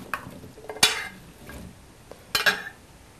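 Vegetables dressed in olive oil are tossed in a bowl or pan for roasting, giving a few short wet rustling and scraping bursts with a light clink of utensils, up close and without talking.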